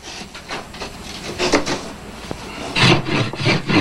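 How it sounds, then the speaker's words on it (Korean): A hand saw cuts through wood while volunteers repair old hillside houses in Cheoram, a steady, close rasping of back-and-forth strokes that grows louder toward the end, with no talking. "산 비탈의 낡은 집들을 새로 고치기 위해 하루 종일 톱질,"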